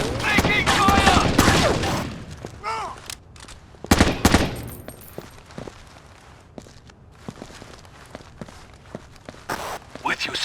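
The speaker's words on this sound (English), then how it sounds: "Taking fire!" Gunfire and footsteps in the Xbox tactical shooter Rainbow Six 3: Black Arrow, with sharp bursts of shots clustered early and around the middle, scattered steps between, and voices talking over the action.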